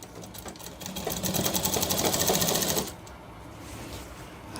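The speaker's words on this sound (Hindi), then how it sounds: "यहाँ पे हमें ओवरलॉक निकालेंगे, साइड बंद हो जाएगी ये।" An overlock sewing machine runs steadily, stitching the side seam of a shirt with a fast, even mechanical whir. The sound builds, holds for about two seconds, then drops off, leaving a quieter hum.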